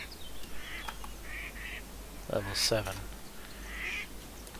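In the Dwarrow game, ducks give faint scattered quacks and one louder honking call in the middle, all set against steady background noise while a voice briefly speaks over them.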